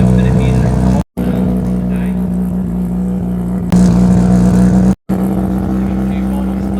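Drag racing cars at the Garrett Brisbane Jamboree finals roar past in a loud, sustained engine drone, with a commentator talking over the noise and two brief cuts to silence.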